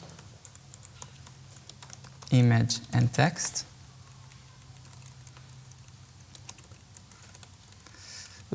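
Code is typed on a computer keyboard in quick clicky keystrokes, faint for most of the stretch, while someone talks over them in a short spoken burst.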